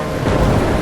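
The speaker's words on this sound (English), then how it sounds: "I'm trapped in a storm?" Thunderstorm in the video game Life is Strange, a loud, dense roar of thunder and pounding rain with broad rumbling noise and no pauses over a brief moment.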